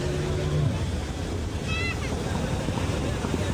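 A motorboat ride on the sea off Anjuna beach, Goa, with a constant rush of engine, water and wind noise throughout and a few brief tonal sounds over it.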